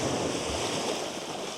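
Ocean waves washing in over coastal rocks with a steady, broad rushing surge, close and continuous, with light wind in the background and no talk.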